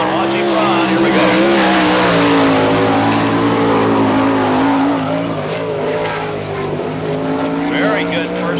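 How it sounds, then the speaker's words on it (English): A sprint car, number 8, runs a fast qualifying lap on a Barberville, Florida dirt track during an All Star Circuit of Champions Speedweek event, its engine drone steady and loud throughout, with a commentator talking over it. "On the racetrack, sprint car number 8 out of Beaumont, Texas."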